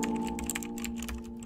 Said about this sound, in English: That's a keyboard.